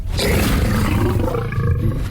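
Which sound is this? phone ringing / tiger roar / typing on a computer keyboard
tiger roar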